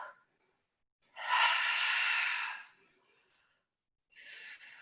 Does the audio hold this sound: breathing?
yes